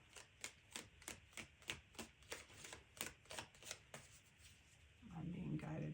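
Tarot cards riffled and shuffled by hand in a quick, steady run of crisp flutters, close and clear, then a softer rustle as the deck settles at the end.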